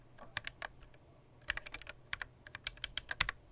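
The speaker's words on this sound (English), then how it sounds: "let's do another typing test at like English 10K just because I can" Typing on a soda-themed mechanical keyboard fitted with light 35-gram switches: bursts of quick, soft clicking keystrokes, close but fairly quiet, with short pauses between runs.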